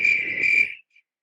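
A shrill, steady cricket-like chirp plays loud and close for under a second and cuts off sharply. A faint short chirp follows, then silence.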